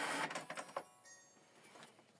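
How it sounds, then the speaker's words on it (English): An HP printer running a print job on a scanned document, giving a short mechanical whir and clatter that fades to a quiet hum, faint and close. "So the document is printing."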